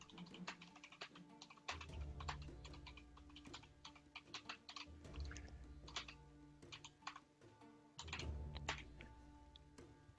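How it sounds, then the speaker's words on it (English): Quick bursts of typing on a computer keyboard, irregular clusters of soft clicks with short pauses between, close and fairly quiet with no talking. "I'll just type him a quick note"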